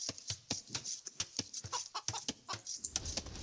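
A chicken clucks in the video game Age of Empires 2, giving a quick series of short, sharp clucks in an uneven rhythm, close and clear, with no talking.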